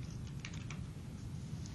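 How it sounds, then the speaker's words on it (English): Quiet keystrokes on a computer keyboard, a short, soft patter of several taps over a low background hum. "I can come over here and start typing"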